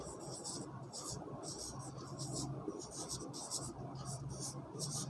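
A pen or marker writes names on a surface in a series of quick scratchy strokes, rhythmic bursts of close friction with short pauses between words, and a voice speaking softly in the background.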